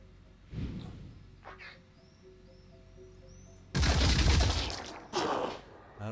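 Gunfire in the video game Phoenix Point, aimed at a target: a short burst early on, then a dense sustained volley followed by a second shorter burst, loud and close with a faint rising electronic tone in between.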